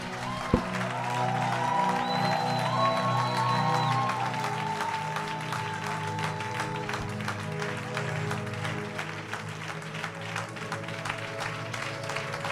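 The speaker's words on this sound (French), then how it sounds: "Nous acclamons le Seigneur." Congregation at a church service clapping and cheering in acclaim of the Lord, a steady wash of applause with some voices and sustained tones over it.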